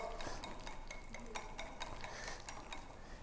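A spoon stirs a thick chocolate and cream mixture hard in a bowl, producing quick repeated scraping clicks and clinks against the sides in an irregular rhythm, fairly quiet and close.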